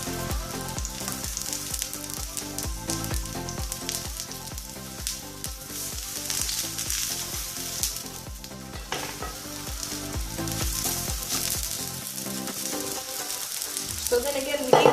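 Aubergine slices fry in a hot oiled pan, giving a steady, loud, dense sizzle with crackling pops that runs unbroken throughout, with no voices.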